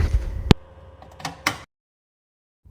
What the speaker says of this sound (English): first thing we're going to do is open the oven door